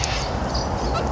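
Birds calling outdoors in urban Metro Melbourne, a dense loud chatter of squawks and honk-like calls filling the whole moment with no pauses.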